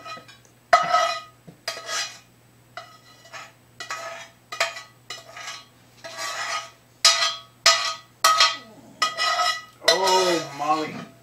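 A spoon scrapes and taps against a glass baking dish while spreading cornbread batter for a Mexican casserole, in a steady series of rhythmic clinking strokes, close and fairly loud, with a voice speaking briefly near the end.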